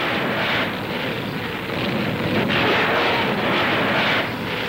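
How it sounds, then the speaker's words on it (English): Massed Russian artillery and Katyusha rocket barrages in a huge wartime counterattack, heard as a dense, continuous roar of distant fire with rolling rumbles and no clear separate shots. "Katyusha rockets."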